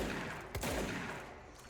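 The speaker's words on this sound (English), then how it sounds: "So the shatter is basically, I think that's that one, is basically a shotgun." A Shatter shotgun blast in the video game Control, one sharp loud report followed by a rumbling decay, alone without talk.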